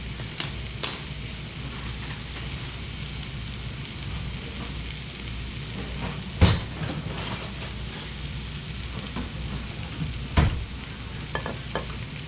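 Chicken lo mein stirring and sizzling in a hot pan, a steady frying hiss with a few sharp clanks of a utensil against the pan, no talking.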